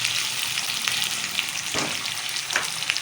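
Steady loud sizzling from a frying pan as two medium chopped tomatoes go in for dhaba-style chana daal fry, with a few soft stirring clunks over the continuous hiss.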